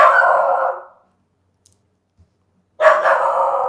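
A dog barks excitedly in two long, loud, close outbursts separated by a couple of seconds of near silence.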